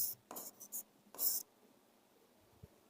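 Marker or chalk strokes on a board while writing a Hindi word during a grammar lesson, a few short scratchy rubs in quick bursts, close and fairly quiet, with no talking.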